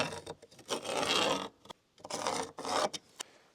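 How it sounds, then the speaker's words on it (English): Cutting vent holes in Durock cement board: rough rasping scrapes in bursts, a long stroke, a pause, then several shorter strokes, close and alone. "and I'm cutting up here."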